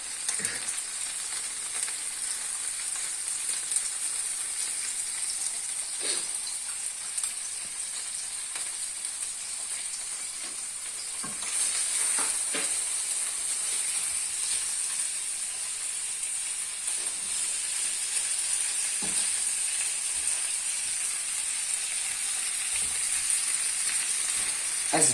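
Onions fry in a pan for spicy baked beans with sausage, a steady close sizzle that grows slightly louder midway, with occasional faint clicks of stirring and no speech.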